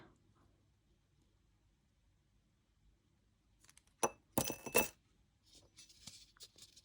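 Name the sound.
ball placed into a drinking glass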